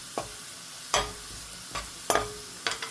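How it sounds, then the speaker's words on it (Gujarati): Garlic frying in a pan until golden brown for a fresh Bumbla fish recipe, with a few distinct stirring scrapes spaced about a second apart over a faint sizzle. "લસણને થોડુંક એવું ગોલ્ડન બ્રાઉન થવા દેવાનું છે."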